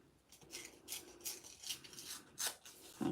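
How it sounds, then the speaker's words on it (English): A thin strip of paper is torn for card-making, giving a series of short, soft tearing rasps in quick succession, close and faint, with no talking. "We're going to just do a thin ripping of this one."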